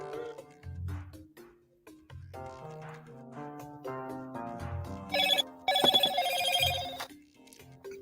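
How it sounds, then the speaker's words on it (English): A phone rings out with a melodic ringtone of repeating chimes for Twitter notifications, moderately close and rising in brightness toward the end, with no talk over it. "Twitter notifications"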